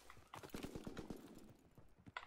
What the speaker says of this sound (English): Can hear footsteps